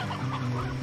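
Chickens in the video game Slime Rancher, a steady murmur of clucking from several birds, close and continuous throughout the short moment with no talk over it.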